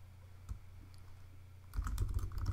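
A slideshow title is typed on a computer keyboard, a short run of soft, close keystroke clicks in a quiet room, growing busier toward the end.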